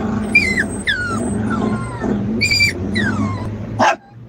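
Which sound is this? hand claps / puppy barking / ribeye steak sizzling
puppy barking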